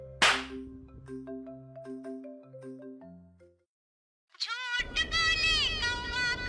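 A mobile phone ringtone for an incoming call plays a descending melodic run of clean electronic tones, then cuts out into a brief silence before loud, close voices start talking.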